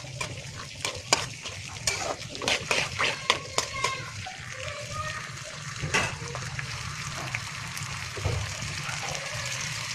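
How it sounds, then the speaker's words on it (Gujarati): Fenugreek (methi) greens mixture frying in oil, stirred with a utensil: a steady close sizzle runs throughout while a quick cluster of scraping, clinking strokes against the pan comes early, then sparser knocks. "પછી આપણે હલાવી દેવાનું છે અને થોડી વાર તેલમાં ફ્રાય થવા દેવાનું છે"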